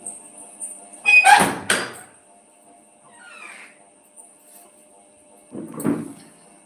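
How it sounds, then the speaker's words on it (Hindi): A household door opened in a quiet room: a loud wooden clunk and creak with rattling, a faint scrape later, then another softer knock, with a steady high electrical whine in the background. "बस यही मैं दरवाज़ा खोल दूँ"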